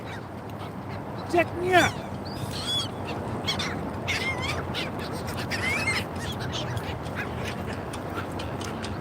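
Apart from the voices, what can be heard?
birds quacking, likely ducks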